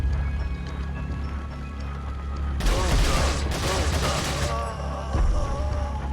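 TMP machine pistol firing in Resident Evil 4, a burst of rapid gunshots in the middle of the clip over a low game ambience, with another short shot near the end.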